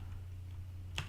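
Quiet computer keyboard typing in a home office, a faint soft patter over a steady low hum, with one brief louder keystroke near the end.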